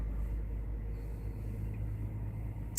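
An old Peterbilt truck engine idles with a steady low rumble, constant and fairly close for a few seconds with no speech.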